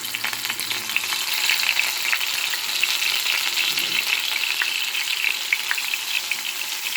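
Dried bisugo fish frying in a pan, a dense, close sizzle full of rapid oil pops and crackles that holds steady throughout with no voices.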